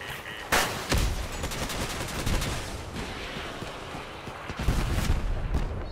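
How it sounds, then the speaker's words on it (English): Missiles and weapons fire rapidly in a vehicle combat video game, a dense continuous barrage of booms and bursts with a few louder impacts standing out. "It's got some missiles going there."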